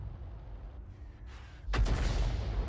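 A single booming shot from an SU-26 self-propelled artillery gun in World of Tanks, a sudden deep blast after a quiet rumbling stretch, with the low rumble sustained afterward.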